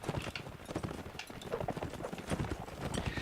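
A horse gallops in a Mount & Blade battle, its hooves making a steady, rapid clip-clop that stays close and fairly loud throughout, with faint battle noise underneath.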